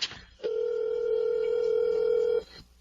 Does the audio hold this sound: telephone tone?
yes